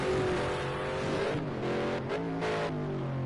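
Race car engine at Long Beach in a racing game, the car drifting on cold tires: steady loud harmonic engine drone with rising and falling revs, continuous and close, no talk.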